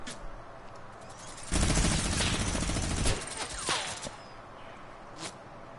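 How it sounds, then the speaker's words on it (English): Gunfire in the Fortnite video game: a dense volley of rapid automatic shots erupts for about a second and a half, followed by scattered quieter shots and a last faint crack. "Who's shooting at me?"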